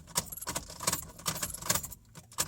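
A set of car keys jangles close by as the key is cycled in the ignition of a car fitted with a remote starter, producing bright, irregular metallic clinks over about two and a half seconds.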